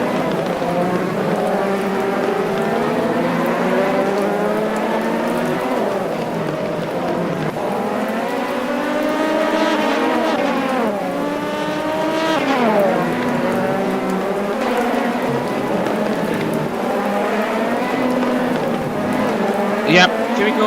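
Race cars push through torrential rain at Sportsland SUGO, the constant hiss of rain and spray running the whole time. Engines rise and fall in pitch as the cars pass.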